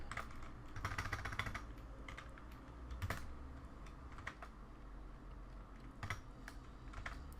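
Rapid clicking keystrokes on a computer keyboard, typed in irregular bursts with occasional louder key hits, close and steady over a low background hum.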